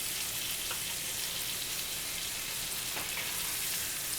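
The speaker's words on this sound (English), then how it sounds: "We're going to turn our pork chops over here." Pork chops frying in a skillet give off a steady, dense sizzle with faint pops, continuous and close throughout, with no talking.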